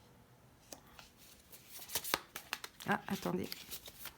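Tarot cards being shuffled by hand in a series of quick riffling, slapping bursts, close and moderately loud, with a person speaking briefly alongside.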